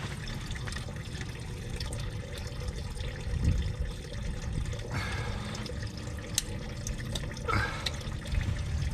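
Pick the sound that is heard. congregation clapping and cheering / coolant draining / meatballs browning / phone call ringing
coolant draining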